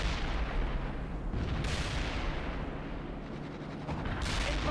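Sustained battlefield gunfire and rumbling artillery from the World in Conflict strategy game, a dense continuous barrage with bursts swelling and fading throughout, no voices.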